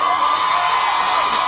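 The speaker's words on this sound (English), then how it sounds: "maybe the microphones pick up on the crowd noise, but they are cheering" A crowd at a college soccer match between Thiel and St. Vincent cheers after a goal, a loud, continuous wash of shouting and cheering voices that stays level for a moment.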